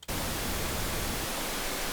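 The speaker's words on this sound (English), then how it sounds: "it's showing it with pink noise because it's really clear what's happening when you listen to that" Steady broadband pink noise runs through a phaser effect, a continuous loud hiss with sweeping notches, starting abruptly after a brief silence.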